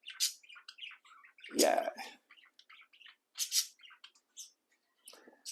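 Blue, a pet bird perched in a hat, sings and chirps in quick, bright, high twittering bursts and trills that come close and clear, with a short spoken word among them.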